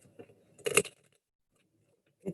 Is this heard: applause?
no